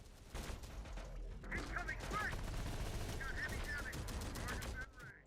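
Terminator-style laser weapons fire in the video game Combat Mission, with rapid, dense bursts that run almost continuously and carry chirping, whistling tones over a heavy crackle.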